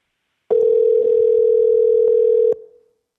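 A phone call ringing out to an AI assistant, heard as a single steady, loud telephone tone lasting about two seconds and then fading quickly, with no voices.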